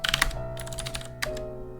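A short burst of keystrokes on a computer keyboard while entering commands in a NixOS Linux terminal, with quick clustered clicks over a faint steady hum and no speech.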